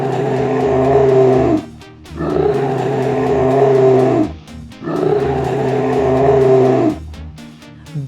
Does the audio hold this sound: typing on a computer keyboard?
no